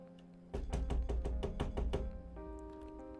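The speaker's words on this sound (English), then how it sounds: "I wake up to the sound of pounding on my door" Heavy pounding knock on a door in a video game, about eight loud, evenly spaced thuds in a steady rhythm, close and clear over soft background music that continues after the knocking stops.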